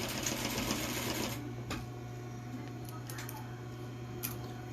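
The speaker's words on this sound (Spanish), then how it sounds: "Unimos las puntas y hacemos una pequeña costura." A sewing machine stitches a short, small seam on a fish-shaped backpack, its whirring hum loudest in the first second or so, then dropping to a quieter steady drone with a couple of faint clicks.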